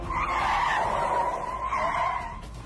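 A car tears along at full speed with a loud, sustained tire squeal and skidding whine over a steady engine roar, close and continuous before easing off slightly at the end.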